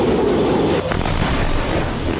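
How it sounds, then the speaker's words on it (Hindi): Explosions over Jerusalem and Tel Aviv during an Iranian ballistic missile attack on Israel, a dense continuous rumble with a sharp burst partway through, loud and close, no voices. "रात इजराइल के दोनों सबसे बड़े शहरों यरूशलेम और तेल अवीव में विस्फोटों की आवाज सुनी गई।"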